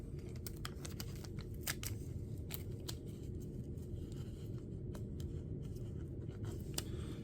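Adhesive tape being pulled and torn off, heard as a dense run of sharp crackling ticks and snaps over a steady low rumble, close up with no talking.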